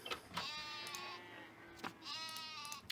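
Sheep in RuneScape 3 bleat twice in clear, quavering calls, each lasting under a second, separated by a short pause, close and fairly loud with no talk.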